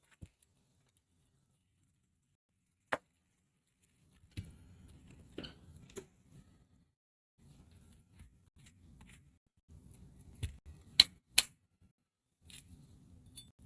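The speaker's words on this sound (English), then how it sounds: "let me get this onion cut up" Sharp isolated knife taps and chops on a cutting board as an onion is cut up in a home kitchen, irregular and fairly close, with quiet pauses between strokes.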